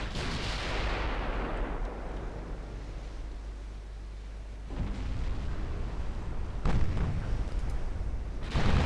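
Warship turret guns fire in a naval battle in Ultimate Admiral Dreadnoughts. Heavy booming salvos roll out over a steady hiss of sea and wind, with fresh blasts landing at intervals near the end.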